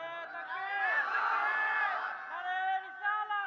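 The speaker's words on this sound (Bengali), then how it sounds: "জবান খুলে একটা তাকবীর হবে।" A crowd at a Ramadan iftar religious gathering shouts the takbir together, a loud sustained chorus of many voices rising and swelling, then falling away into a few more shorter bursts.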